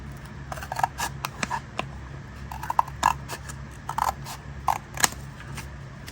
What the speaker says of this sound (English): I'm going to cut this because I want to use the houses.